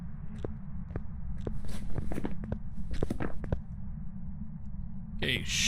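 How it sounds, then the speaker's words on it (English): Footsteps in a ghost-hunting video game, a series of soft irregular steps and small clicks over a constant low in-game hum, with a brief louder rustle near the end. "should be normal footsteps"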